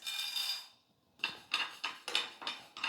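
Rice, pepper, cumin and fenugreek dry roasting in a small kadai, giving a series of sharp, close scraping and rattling strokes in an uneven rhythm, with a brief pause early on.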